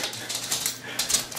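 A dog whimpers and yips in short, uneven bursts, fairly close and with no voices over it.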